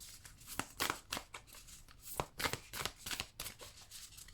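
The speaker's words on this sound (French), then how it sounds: "je vais prendre une carte pour vous" A card drawn from a deck in a tarot-style reading, with a series of crisp close riffling snaps and slides, several sharp flicks spread unevenly across the span.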